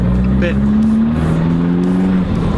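Abarth 595 Competizione hot hatch with a steady, loud exhaust drone under acceleration, a continuous engine note that rises slightly in pitch, close up, with a brief word spoken over it.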